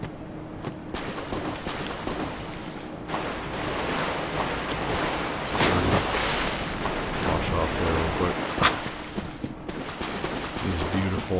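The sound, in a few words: water and waves in Dark Souls 3 video game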